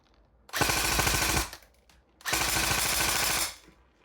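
An airsoft gun with a Perun V3 hybrid mosfet fires two full-auto bursts of about a second each, separated by a short pause. Each burst is a rapid, close, loud rattle of just over twelve rounds a second, with no voices.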